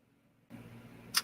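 A computer mouse gives a single sharp click near the end, set against a quiet, low room hum.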